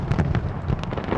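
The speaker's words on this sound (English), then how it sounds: "Australia was one of the first places to mark the new year with its traditional fireworks display in Sydney Harbour" New Year fireworks display over Sydney Harbour: a quick series of distant thuds and crackling bursts, rapid and overlapping, with a rough wind-like roar beneath.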